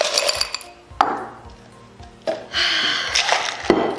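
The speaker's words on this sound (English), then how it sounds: "Glass with ice." Ice cubes clinking and knocking in a glass, with several sharp separate clinks and a short stretch of rattling as ice tumbles in.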